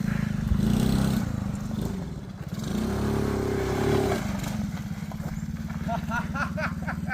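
A small four-wheeler with a freshly tuned carburetor runs in loose dirt, its engine a steady close, rough drone that swells and dips in revs throughout.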